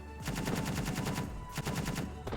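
A 30 mm autocannon in Space Engineers fires rapid bursts of evenly spaced shots, loud and close, with a brief break before a second burst.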